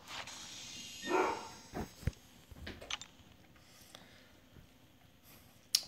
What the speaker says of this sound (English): Dogs are just letting me know the wind is blowing